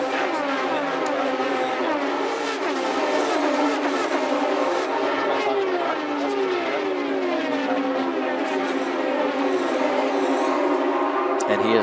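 IndyCar race cars at full throttle in the 2008 Indianapolis 500, a continuous high-pitched engine whine with shifting Doppler sweeps as cars pass, steady and loud under a commentator's voice.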